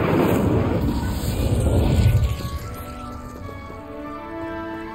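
Incendio fire spell cast in the video game Hogwarts Legacy, a loud rushing burst of flame that fades after about two seconds into quieter ringing magical tones.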